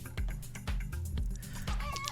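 Cartoonish chicken clucks from the slot-machine video game Luck be a Landlord, a quick run of short bouncy clucks over a light musical backing, no voice.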